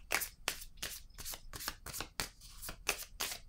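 A deck of playing cards riffled and shuffled in a quick run of about ten crisp bursts, close and fairly quiet, with no talking.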